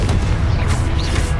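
A booming Confringo blast spell in Hogwarts Legacy, delivered as one dense, loud, sustained low-frequency explosion that fills the whole moment.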